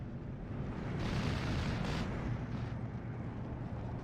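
Bombing-strike explosions from the Steel Division 2 battle game roll out as a continuous, dense, rumbling roar with heavy low-end booms and crackling bursts layered on top, loud and sustained, with no voices over it.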